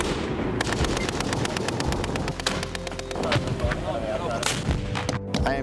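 Gunfire and blasts during a U.S. Army military breach, a rapid series of sharp, loud reports over a continuous roar with a heavier detonation mid-way, close and dense throughout.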